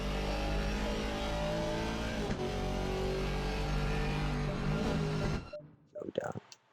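A GT4 race car brakes at Brands Hatch in the video game Assetto Corsa Competizione. A loud, sustained engine roar runs under commentary voices, then cuts away sharply as the car slows.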